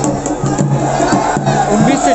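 A large crowd of young and old people gathered at a protest rally in Tehri over domicile and land laws, a dense mass of overlapping voices with scattered shouts rising above the murmur.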